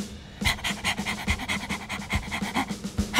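A human voice imitates a panting dog to cool off: loud, close, rapid rhythmic huffs that repeat steadily for several seconds.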